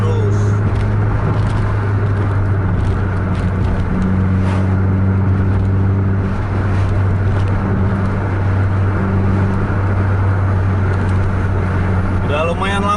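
A Volvo or Scania coach engine pulls hard under acceleration, a heavy, steady diesel drone with strong low harmonics that hold throughout. It sounds close and loud, with faint cabin voices and road noise mixed beneath it.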